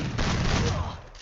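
Gunfire in the Free Fire mobile shooter game, a loud, sustained burst of rapid shots filling the whole moment.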